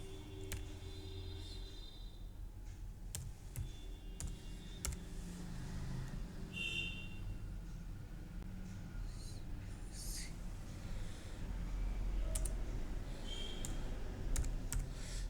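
Computer keyboard keys tapped while entering a COUNTIFS formula in Excel, with quiet, close clicks in uneven bursts and pauses over a low background hum.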